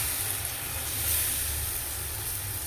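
Vegetable chilla batter spread on a hot tava sizzles with a steady, soft, even hiss, close and continuous with no talk.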